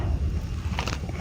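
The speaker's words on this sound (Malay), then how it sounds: "Tak ada gapo angin je kot." Wind gusts buffeting the microphone outdoors, a steady low rumble with a brief brighter rush near the end, no voices.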